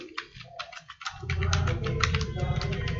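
Keys clatter on a computer keyboard in quick bursts, first sparse and separate, then a denser run of taps over a low background hum.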